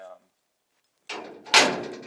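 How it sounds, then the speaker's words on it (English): The latch and door of a half-top cowboy stock trailer, one clunk followed by a louder metallic bang as the door swings open, close by, after a brief voice and a moment of silence. "that latches, and my door opens"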